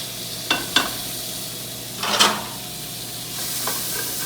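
Pesto warms in a hot pan and sizzles steadily, with a few sharp stirring scrapes and a clatter of cookware rising above the hiss. Nobody speaks.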